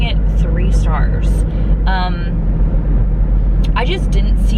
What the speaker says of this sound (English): this truck is like so loud in front of me